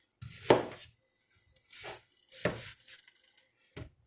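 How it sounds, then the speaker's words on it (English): Peeled onions halved pole to pole with a kitchen knife, giving a few separate thudding cuts against a cutting board with pauses between them, close and fairly loud. "you just cut them at the poles, pole to pole, and then lay them sideways"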